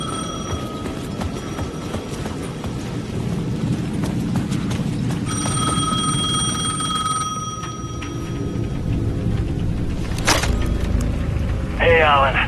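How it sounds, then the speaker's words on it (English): A payphone rings repeatedly through a dense ambient Alan Wake II game soundscape of rumbling noise and clattering, with a brief electronic chirp near the end. "The payphone at the edge of the plaza was ringing again."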